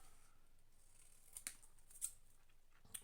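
Scissors snipping a paper tag, several quiet, sharp cuts spaced irregularly over a few seconds in an otherwise hushed room.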